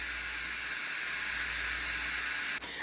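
Steam releasing from a pot of Filipino beef soup (nilagang baka), a loud, steady, close hiss that continues unbroken and cuts off abruptly near the end.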